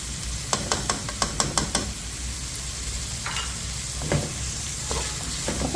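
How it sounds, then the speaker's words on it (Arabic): Garlic and peppers frying in a pan for a calamari rice dish, a steady close sizzle with a quick run of sharp utensil taps early on and a few softer stirring scrapes later. "نخليهم هنايا يتشحروا مزيان"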